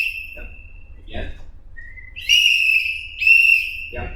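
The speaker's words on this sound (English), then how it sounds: "just blow the whistle and sweep the arm" Two sharp, shrill referee whistle blasts at a wrestling mat clinic signal out of bounds, the second longer, with faint shuffling and distant sounds between them.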